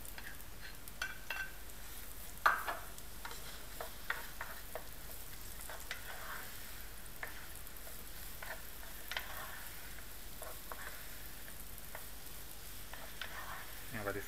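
Apples dropped into melted butter in a pan for a braided apple puff pastry, a soft, steady sizzle with occasional clinks of utensil against pan, faint and close, with quiet talk now and then.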